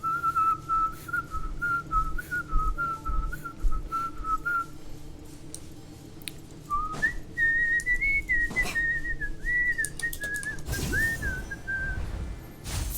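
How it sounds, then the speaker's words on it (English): A person whistles long, wavering tones, one held note and then a slightly higher sustained pitch, over a steady background hum with occasional clicks. "I can whistle exhaling and inhaling as well."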